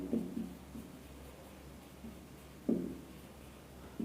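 A pen or marker scratches across a board while a Class 12 continuity problem is being worked out, in short, faint strokes: one burst at the start, another near the end, and quiet in between.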